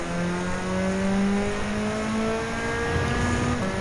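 A Super Formula race car engine drones steadily at high revs through a final lap in Gran Turismo 7, its rising tonal whine holding loud and continuous with faint tire noise and no talk.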